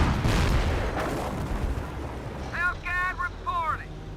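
Bombing run in Company of Heroes: heavy, rumbling explosions, loudest at the start and then fading into a continuing low roar, with a voice talking over them.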